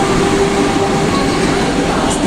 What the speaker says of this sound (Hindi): हमारी ट्रेन आ चुकी है वंदे भारत।